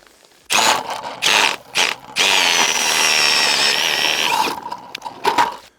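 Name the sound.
power auger drilling a hole through lake ice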